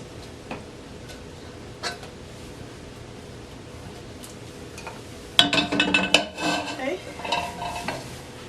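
Sweet chili basil crab is scooped out of a pan, first a quiet stretch with faint ticks, then a burst of close metallic scraping and clattering of utensil against pan and dish.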